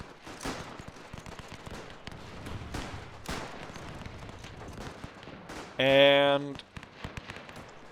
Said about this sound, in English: I'm gonna order everyone to open up fire